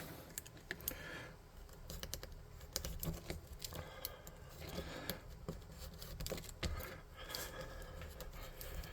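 Material is cut by hand for a mecha Mothman tabletop model, with a run of small, quiet, irregular clicks, snips and scratches close by, and no talking.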